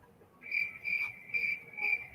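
A cricket-chirping sound effect pulses four times in quick, regular bursts, bright and close with nothing else over it.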